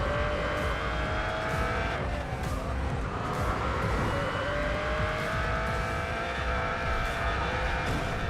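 A Mercedes-Benz CLK GTR racing in Racing Master, a steady loud engine roar with shifting pitch as it accelerates, accompanied by tire noise and other cars, with no talking.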